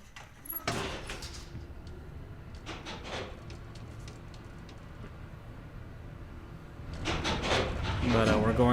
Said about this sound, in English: gotta close the door first